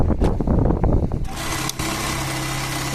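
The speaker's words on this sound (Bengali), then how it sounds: "dollar button whole machine, new style" A dollar buttonhole sewing machine stitches a new-style buttonhole: quick rhythmic mechanical pulses give way to a steady, even motor whir with a humming tone, close and moderately loud.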